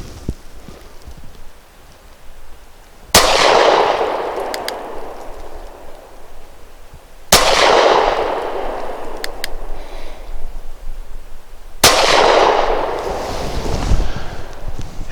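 A KelTec PF-9 pistol fires Remington Golden Saber 124-grain brass-jacketed hollow points outdoors: three loud, sharp single shots spaced several seconds apart, each with a brief echoing tail.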